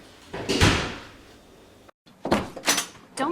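A door being shut indoors: a loud close-up thud and rattle, a brief silence, then a second set of sharp knocks and bangs as it is pushed firmly closed.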